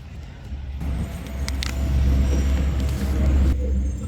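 A car engine left running while the driver steps away, giving a steady close low rumble that swells slightly midway, with a few faint clicks and thuds on top.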